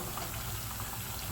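Leftover rice snacks fry in a pan of hot oil, a steady soft bubbling sizzle throughout with faint tiny pops.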